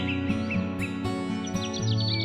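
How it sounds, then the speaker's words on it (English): A small bird chirps in quick, bright tweets, repeated several times close by over a soft, steady musical backdrop. "she came across a small, wounded bird lying on the ground"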